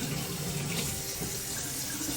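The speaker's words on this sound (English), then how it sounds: "So I want this mug to be full of hot water so that the mug itself is warm." Hot water runs steadily from a tap into a mug in a kitchen, a constant close hiss and splash with no pauses. There is no talking.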